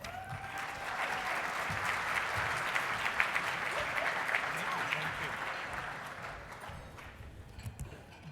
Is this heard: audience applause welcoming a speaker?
yes